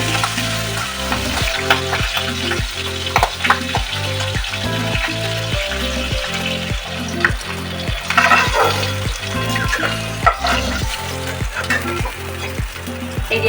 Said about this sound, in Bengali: তেলটা গরম হয়ে গেছে, এবারে আমি একে একে মাছগুলো ছেড়ে দেবো।